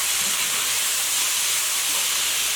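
A cabbage medley cooking down in a pot gives off a steady, dense hiss of steam and sizzle, constant and close with no talking.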